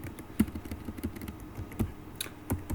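Keys on a computer keyboard tapped in an irregular run of clicks, with a few louder thumps among lighter strokes, close and alone.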